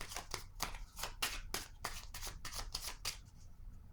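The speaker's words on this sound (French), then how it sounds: "Je vais déposer une carte sur ce que je ne vois pas." Tarot cards shuffled in quick riffling bursts, about ten crisp flicks in an even rhythm, close and clear with no talking.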